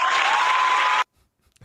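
A brief burst of crowd applause, clapping steadily for about a second before cutting off abruptly into near silence.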